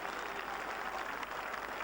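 Dense, steady crowd applause and cheering fill the whole moment at Lord's cricket ground for a batsman leaving after a fine innings, a continuous roar with no break.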